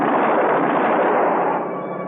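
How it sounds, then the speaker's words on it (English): Gunfire sound effect from an old-time radio detective drama, men shooting up at a helicopter: a dense, continuous roaring burst of shots lasting about two seconds, loud and close, tapering slightly at the end with no voices. "They turned to fire at Tinker up in the copter"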